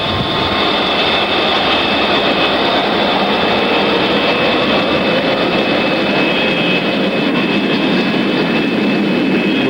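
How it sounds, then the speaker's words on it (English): A supersonic airliner roaring down the runway on takeoff in a film, a loud, steady jet-engine howl with a high whine, continuous and close, with no voices over it. "Maiden One cleared for takeoff."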